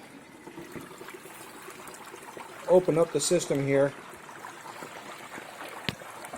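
Hot oil bubbles around a turkey in a Farberware 201626 deep fryer after about 35 minutes of cooking, a steady close fizzing and gurgling that runs throughout, with someone speaking briefly midway.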